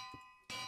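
Minecraft bell from the video game, sounding like an anvil: a single bright, metallic clang strikes near the end and rings out, preceded by a faint low tap.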